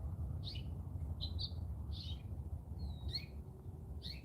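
A house finch sings in short warbled chirps, six or so bright phrases spaced through the clip over a steady low background rumble, fairly near and moderately loud.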